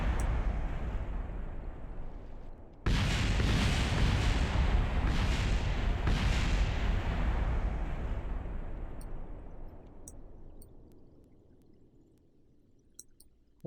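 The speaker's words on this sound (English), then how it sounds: "I'm assuming this is going to explode pretty soon. Yep, there it goes." A heat shield bursts apart during atmospheric reentry in Kerbal Space Program, opening with a sudden loud boom that becomes a dense rumbling roar, swells a few times, and then slowly fades over about ten seconds.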